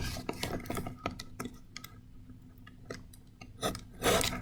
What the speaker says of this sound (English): This is where this craft knife comes in handy.